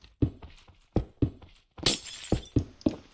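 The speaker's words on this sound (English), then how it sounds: "all you've got to do is build this up with blocks and just place some glass" Glass blocks are placed one after another in Minecraft, giving a rapid irregular series of sharp glassy clinks and taps, close and crisp, with no talking.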